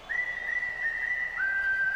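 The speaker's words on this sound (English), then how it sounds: "You whistle enthusiasts, you got one right there." A single fan at a baseball game lets out a long, steady, high whistle that holds its pitch and then drops slightly for the final stretch, clear and alone over faint crowd hum.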